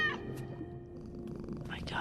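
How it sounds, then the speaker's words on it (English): A cat purrs in a soft, low rumble beneath a person speaking nearby, the purring steady and faint through the short moment. "My cat?"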